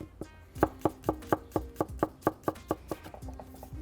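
A knife chops steadily on a cutting board, about fifteen crisp, evenly spaced strikes in close succession, up close with no talking.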